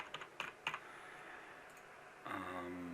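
A short run of quick keystrokes on a computer keyboard typing a name, a few crisp clicks near the start, then quiet background hum that swells slightly toward the end.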